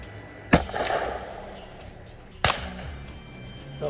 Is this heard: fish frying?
no